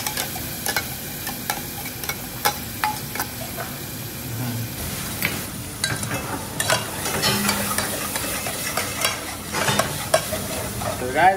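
Ground masala paste stirring and frying in a pan with onion, garlic and cumin, a steady close sizzle broken by frequent scraping clicks of a spoon against the pan, running continuously.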